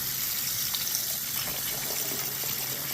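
Steady running water pours and splashes continuously as freshly harvested turmeric roots are rinsed, a broadband gushing wash with no pauses.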